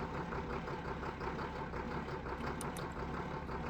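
A tractor engine in Farming Simulator 19 idles with a steady, low mechanical rumble, close and continuous, with no talk over it.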